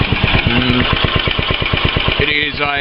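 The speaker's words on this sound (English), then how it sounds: "It's a 1980s Honda powered slasher." A 1980s Honda G65 6.8 hp engine powering a Mobilco slasher runs close by with a steady, rapid pulsing chug. Someone talks over it.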